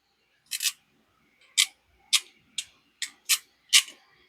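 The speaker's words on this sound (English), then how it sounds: "Soft release, easy ratchet." Ratchet of a Haisstronica connector crimper tool, seven sharp, close clicks spaced roughly half a second apart against near silence.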